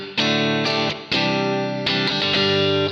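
Electric guitar run through a Palmer Eins amp with heavy bass EQ, several strummed chords with sharp attacks and full low end, loud and close, no talk.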